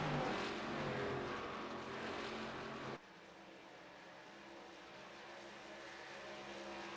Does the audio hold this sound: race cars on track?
yes